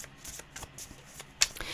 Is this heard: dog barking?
no